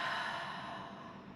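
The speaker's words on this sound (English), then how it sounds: "And a big breath out." A single long exhale during a low-impact standing glutes barre workout with a resistance band, a soft steady breathy whoosh that fades gradually over about a second, close and quiet.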